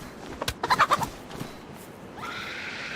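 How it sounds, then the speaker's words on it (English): A chicken in the DayZ video game clucks in a quick burst of several squawky calls close by, followed by quieter ambient noise. "I'm going to get killed chasing this chicken around here"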